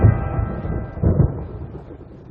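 A thunderstorm rolls in as a low, heavy rumble that swells twice and then fades, mixed with a soft hiss of rain, deep and distant, with no voices.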